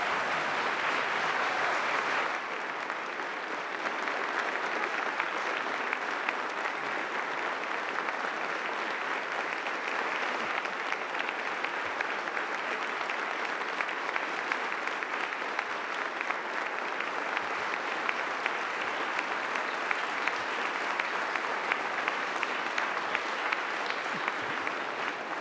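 An audience of Justice Department staff applauds to welcome Attorney General Merrick Garland, a dense, sustained roar of clapping that holds steady for about twenty-five seconds with no voices over it.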